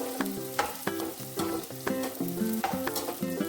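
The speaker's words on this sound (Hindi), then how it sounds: "गोंद को हमने थोड़ा थोड़ा ही घी में भूनना है" Edible gum (gond) fries in ghee with a busy, crackling sizzle, while a spoon stirs and scrapes the pan at irregular beats close by.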